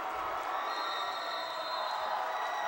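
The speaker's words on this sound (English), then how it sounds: "And the crowd loves it." Basketball crowd cheering in a high school arena after a Gunn basket, a dense steady roar of many voices with whoops, sustained through the whole moment.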